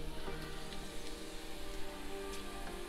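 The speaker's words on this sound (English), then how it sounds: "So as you guys can see, the onions are sauteed." Onions sautéing in a pan for red lentil dal, giving a soft, continuous sizzle with faint crackles and pops, fairly quiet and steady throughout.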